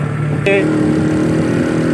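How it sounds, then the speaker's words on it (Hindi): Traffic passing on a street, motorcycles and cars, a steady engine drone with a brief horn-like tone early on, close and loud, with faint voices in the background. "गड्डियाँ क्या जा रही हैं, मोटरसाइकिल जा रहे"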